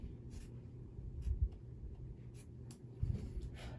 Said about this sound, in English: Now I gotta trim down that little tiny piece down at the bottom where I was so close.